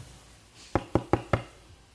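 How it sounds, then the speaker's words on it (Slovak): Four quick, evenly spaced knocks on a door, sharp and fairly close against a quiet room. "Počkať, niekto klope."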